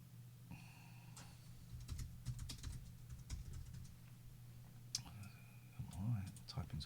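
Computer keyboard typing comes in scattered soft clicks and short bursts beneath a low hum, faint and close, with brief murmured voices in the background.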